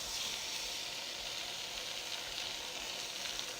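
A roughly ten-ounce sirloin steak sizzles steadily in a hot pan, a loud, even hiss that holds without a break and has no talk over it.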